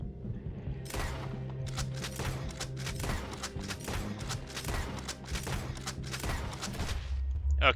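Gunfire in the video game Red Dead Redemption 2, a long run of rapid, closely spaced loud shots in an irregular rhythm over a low rumble, easing off near the end.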